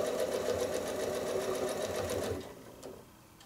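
A sewing machine stitches a free motion quilted feather design, running in a rapid steady whir for about two seconds before slowing and stopping.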